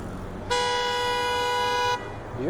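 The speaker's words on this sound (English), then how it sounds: "More honking" A car horn on Bloor Street in Toronto blares in one long, loud, steady honk lasting about a second and a half over backed-up city traffic.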